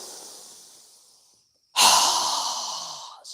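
Two forceful breaths during a yoga breathing exercise: a softer, airy exhale fading out, then after a short pause a loud, sharp, rushing exhale that tails off, ending with a brief puff.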